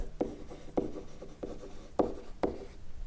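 A marker writing on a classroom board during a logarithm graphs lesson: five distinct squeaky strokes spaced roughly half a second apart, fairly loud and close, with no voices.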